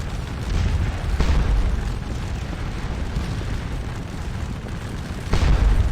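Massed Napoleonic artillery batteries at Waterloo in the Scourge of War: Waterloo strategy game, a continuous deep rumble of cannon fire with booming surges at intervals and a heavy blast near the end, loud and dense.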